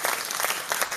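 An indoor crowd applauds steadily for a brief stretch, with dense overlapping claps close by.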